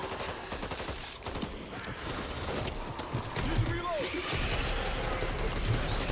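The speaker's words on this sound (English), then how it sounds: "I gotta pull my mouse down so much to full auto this gun" Full-auto gunfire in the co-op zombie shooter Back 4 Blood, a rapid continuous rattle of shots, fairly close, running the whole time over background game noise and a brief voice.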